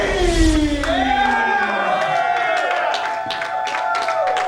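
Project Zero Wrestling fans cheer, clap and shout for a wrestler's entrance at a live event in a noisy hall, with sweeping whistles and yells rising over steady crowd roar.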